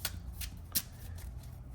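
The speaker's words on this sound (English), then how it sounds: "So deck is shuffled, just doing a few more on-screen ones" A Yu-Gi-Oh! card deck shuffled by hand, with several quick riffling bursts and soft card slaps spaced through the stretch, close and fairly quiet, no voice present.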